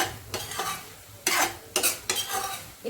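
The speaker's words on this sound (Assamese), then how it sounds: "মই ভাজি ল'ম আৰু লগতে এবাৰ দুবাৰ লৰাই দিম" Cauliflower, potato and peas sizzle and fry in a pan, with several bursts of scraping as a spoon stirs the vegetables against the metal, close and fairly loud.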